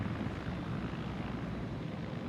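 A helicopter in the video game Arma 3 gives a steady, dense rotor and engine roar that fills the whole moment without a break, constant and fairly loud with no voices.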